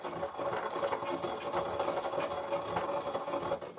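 Cumin seeds are lightly ground by hand in a kitchen, giving a continuous gritty rubbing and crunching texture at moderate volume with no clear pauses.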